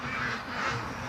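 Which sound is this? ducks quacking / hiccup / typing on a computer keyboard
ducks quacking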